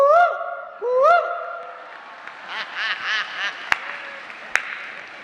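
A person's voice imitates a koel's call with two rising 'koo' notes before a crowd, followed by scattered clapping and murmuring from the audience.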